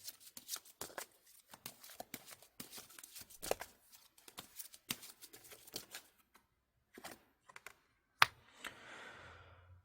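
Tarot cards being shuffled and drawn for an advice reading: a quick run of crisp riffling and flicking card sounds, close and fairly quiet, with short pauses and a brief soft rustle near the end, no talking.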